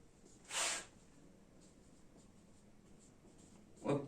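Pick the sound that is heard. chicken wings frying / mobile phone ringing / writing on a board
writing on a board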